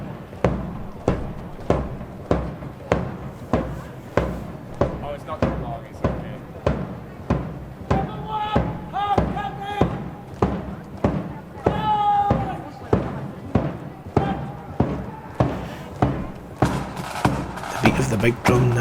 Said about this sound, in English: The big drum never stops.